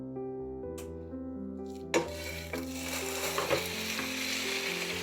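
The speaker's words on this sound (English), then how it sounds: "over medium-high heat, I'm going to add in some oil. And then I'm just going to add in my ground beef." Ground beef dropping into hot oil in a pan over medium-high heat, a soft hum giving way to a loud, steady sizzle close by with a few stirring knocks, and no talk.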